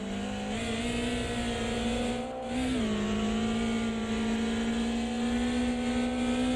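Onboard engine sound of a Formula 1-style race car from a racing video game on the historic Nordschleife, a loud, sustained high whine that dips briefly mid-way as if lifting off, then picks back up and holds steady.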